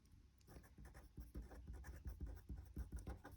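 Pen scratching steadily across paper while an entry is written into a general ledger account, close and fairly quiet, with short strokes repeating in an irregular rhythm and no talking.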